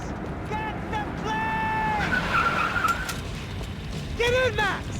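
Car driving and skidding in the video game Max Payne, with whining tire squeals over a rumbling engine and road noise, a sharp squeal near the end, and voices speaking over it.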